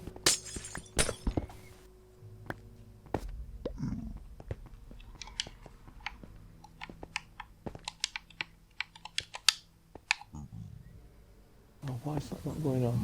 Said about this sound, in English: I'm going to take the glass out